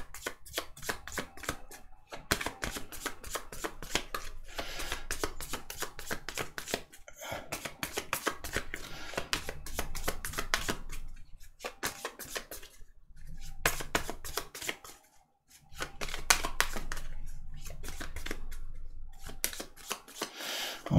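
Tarot cards shuffled by hand in a dense crisp flutter of riffles and slides, loud and close, broken by a few brief pauses and restarts.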